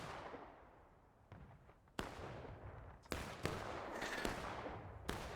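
Cannon blasts from a Civil War artillery gun crew in the multiplayer game War of Rights, with several sharp booming reports over a noisy battlefield, the loudest at the end.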